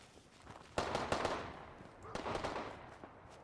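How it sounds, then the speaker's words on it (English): Distant gunfire in the video game Fallout 4, two clusters of quick cracking shots, moderately faint and spaced about a second apart, with no talk. "Who is shooting 4 miles away?"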